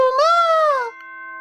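A two-tone ding-dong announcement chime plays in the video game Danganronpa: Trigger Happy Havoc, a bright, clear rising note that holds, then drops into a steady lower tone, loud and alone.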